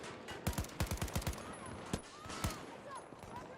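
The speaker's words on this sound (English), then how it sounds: "That's the same sniper that's shooting me." Sniper and rifle fire in the shooter game Battlefield 2042 on PS5: a rapid burst of sharp cracks near the start, then a few isolated single shots further off, with no talking.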